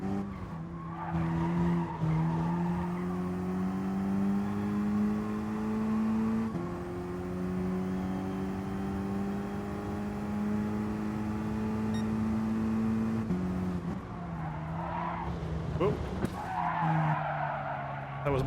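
Car tires squealing under hard braking in Gran Turismo Sport, a loud sustained screech over the engine's steady tone that breaks off and returns as the car slides through turns.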